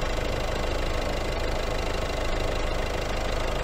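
A vehicle engine idles steadily at a Partex application, a continuous close mid-low rumble with a slight knocking texture and no voices throughout.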